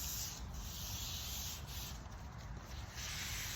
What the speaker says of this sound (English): I'm going to use a 400 grit sandpaper to just lightly rub over all the surfaces of this frame